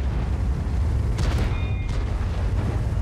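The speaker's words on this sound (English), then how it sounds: "The IS-3 is still shooting" A heavy tank gun fires in a World of Tanks match, the IS-3 shooting; a single muffled boom with a brief burst of crackle rises over a constant low engine rumble, no voices.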